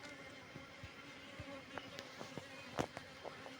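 Wild local bees buzzing around a hive in a forest, a faint steady drone with short louder passes as individual bees fly close by, no talking.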